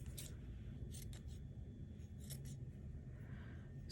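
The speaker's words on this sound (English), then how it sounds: "I've got a piece of curtain lace here, and I could cut out" Scissors snip through a piece of curtain lace in a handful of quick, crisp cuts, close by over a steady low background hum, with no one talking.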